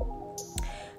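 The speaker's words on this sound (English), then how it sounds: "Continuing to dip it in and out of that water mixture and strain the water out as I go." Wet 613 blonde wig hair dipped into a toning water mixture gives a couple of short squishy, dripping splashes over a low background hum as water is strained out.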